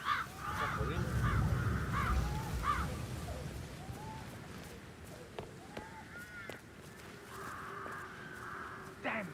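Video game crows give a run of harsh, repeated caws over low rumbling ambience, then quieter scattered calls and a few faint clicks before a final cluster of caws.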